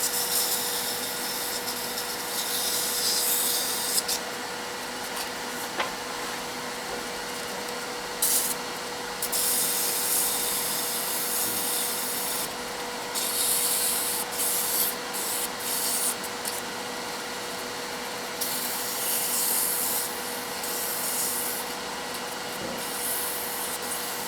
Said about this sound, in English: now I'd go back and go through and sand all of that